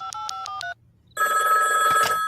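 Telephone ringing, calling a bar in Hawaii: four short bursts of the ring in a quick pattern, a brief pause, then a louder, sustained ringing with a dense electronic trill.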